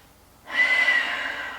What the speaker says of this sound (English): Let's take 2 deep breaths here.